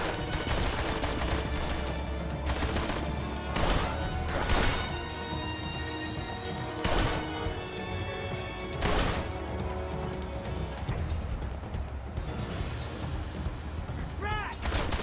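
Gunfire in a video game crackles in repeated sharp bursts over a dense, loud backdrop of game music and effects.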